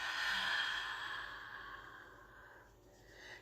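A long, soft breath exhaled through the mouth during a quick yoga session, close and airy, fading gradually before a faint new breath begins.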